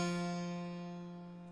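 A single sustained synthesized F note in electronic music production rings out with rich even harmonics, then slowly fades over about a second and a half, alone without talk.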